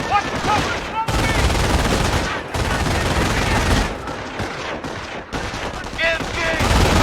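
Sustained automatic machine-gun fire hammers in dense, overlapping bursts during a World War II infantry firefight in Company of Heroes, punctuated by short gaps, with soldiers' shouted voices mixed beneath the gunfire.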